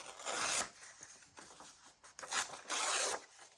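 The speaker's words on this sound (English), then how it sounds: "we can tear some bits off" Book pages being torn into bits by hand for a paper craft, a few close, quiet ripping and rasping strokes in separate bursts with brief pauses between them.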